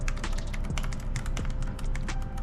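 A Razer Deathstalker V2 Pro keyboard fitted with Keychron switches is typed on quickly and steadily, its close, crisp key clicks running in a continuous patter.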